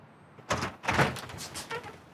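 A front door is opened during a police search of a home, with a muffled thunk and rattle as it swings, followed by a softer scuff. The sound is close and moderately loud.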